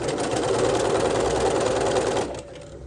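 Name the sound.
sewing machine stitching elastic onto underwear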